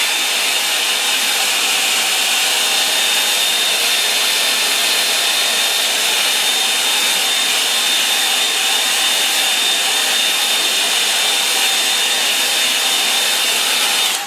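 A hair dryer blows steadily over a watercolour painting, a loud, continuous hissing whoosh with a faint high whine, unbroken for the whole stretch and with no voices.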